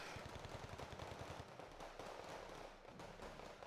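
Rifle troops trade fire in a Wargame Red Dragon firefight, quick rhythmic bursts of small-arms shots followed by scattered popping, faint and somewhat distant.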